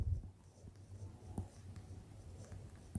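Pen or chalk scratching out an ellipse equation during a maths lesson: continuous soft scraping strokes with small taps, close and steady throughout, with no talk.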